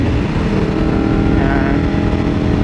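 A motorcycle engine drones steadily and loudly while the bike is ridden through corners, a continuous close-up rumble with slight shifts in pitch and no pauses.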